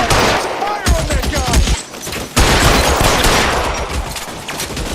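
Gunfire rattles through a shootout in the L.A. Noire video game, rapid overlapping shots and bursts packed tightly together, loud and close, with voices shouting beneath the barrage.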